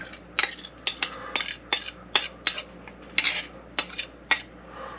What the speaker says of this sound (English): now we're just going to mix that up